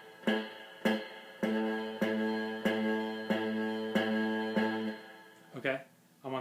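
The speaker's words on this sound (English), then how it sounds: "at first you're probably going to get what's called fret buzz" A guitar note on the 5th fret, fretted with the index finger and picked too lightly, buzzes against the fret; several evenly spaced plucked notes ring alone, followed by a brief muffled sound.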